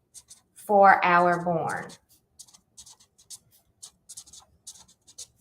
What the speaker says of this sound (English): I'm also gonna do just a little more sketching